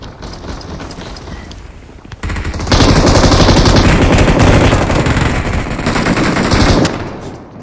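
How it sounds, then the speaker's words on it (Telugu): Rapid automatic gunfire crackles through a gun fight in the video game BGMI, starting in bursts, then erupting into a loud sustained barrage for several seconds before cutting off. "ఫైట్ అవుతుంది, గన్ ఫైట్ రా మనకి."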